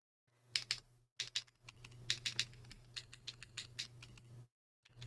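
Typing on a QK80 Mk2 mechanical keyboard fitted with HMX Hades switches: quick clusters of crisp, close keystrokes in uneven bursts, broken by brief pauses of silence.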